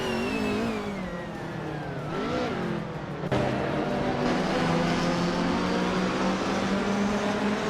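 A 2005 Radical SR3 race car engine drones steadily in a racing video game, pitch sweeping up and down through gear changes, then jumping to a louder, denser roar midway as it accelerates, with no voices.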